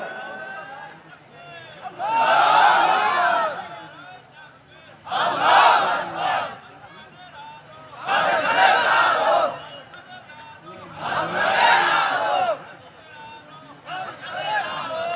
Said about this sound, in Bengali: এবার দেখি পিছন দিক থেকে একজন তাকবীর দিবেন